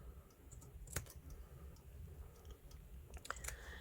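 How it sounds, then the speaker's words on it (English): Scissors snip through fabric quilt pieces up close, a few sharp crisp cuts scattered among quieter rustling and handling sounds, with no talk. "I'm just snipping these."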